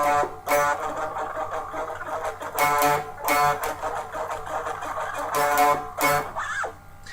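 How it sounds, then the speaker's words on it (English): A guitar pick's edge scrapes along the open D string of a distorted electric guitar for a song's build-up, giving several loud rhythmic bursts of gritty, ringing scrape with brief gaps between them and no voices. "The second one is what we use is a pick scraping on the top D string"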